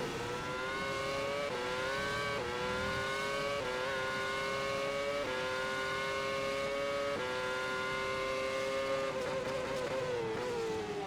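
Race cars in a sim racing video game at the Bahrain Grand Prix: a loud, continuous engine whine that climbs through the gears with sharp pitch drops at each shift, sustained and close throughout without any talk.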